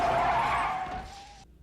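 A car brakes hard and its tires screech in a single loud, sustained skid lasting over a second, then cut off abruptly, from a scene of the film New Moon.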